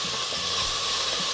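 Chopped onions fry in oil in a pan for a chicken pulao, giving a continuous, fairly loud broadband sizzle with a steady hiss and no pauses.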